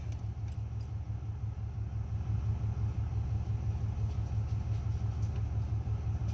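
A car engine, just repaired, runs steadily after being cranked, a loud, close, low rumbling idle with an even pulsing throb and no talking.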